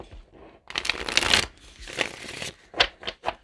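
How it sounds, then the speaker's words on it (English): Tarot cards being shuffled by hand, a soft riffling burst followed by several short, distinct flicks and slaps of cards, close and fairly quiet with no talking. "So I'm going to pull just tarot cards"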